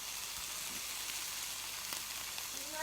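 Omelet eggs sizzle steadily in a Teflon pan, a dense, even crackling hiss that fills the whole stretch at close range with no talking.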